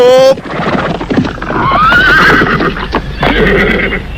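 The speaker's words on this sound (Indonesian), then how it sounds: "Para pasukan berkuda itu berhenti tepat dekat tugu." Cavalry horses come to a halt, with one loud, close, rising whinny over the clatter and clop of hooves, while a voice speaks over the top.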